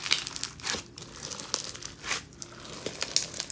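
Crunchy clear slime packed with beads squished by hand up close, giving irregular crackling crunches and crinkly pops in short bursts with small gaps between them, no voices.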